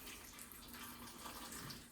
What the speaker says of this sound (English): So I'm filling up the water